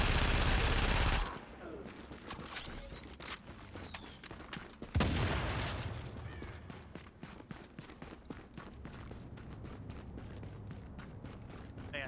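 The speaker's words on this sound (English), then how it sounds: "Shooting this thing." Rapid bursts of gunfire from The Division on PC, a loud initial barrage followed by a second heavy volley and then a steady crackle of repeated shots filling the scene, with no voices over it.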